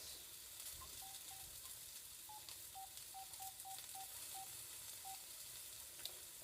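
Sausage and egg fry in a pan for a breakfast sandwich, a steady soft sizzle running throughout with a few faint short clicks over it, and no one talking.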